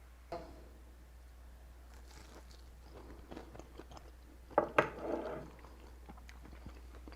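Crunchy salt cod fritters being bitten and chewed, a few quiet crisp crunches clustered near the middle, with a louder pair of bites standing out against a soft background hum.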